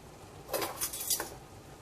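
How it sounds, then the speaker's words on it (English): A lid is pried open on a container of stevia brown sugar in a kitchen, giving a few short, close clattering clicks over about a second with no talking. "Get my lid open here"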